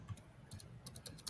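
Rapid, faint typing on a computer keyboard, irregular clusters of soft key clicks heard alone at close range.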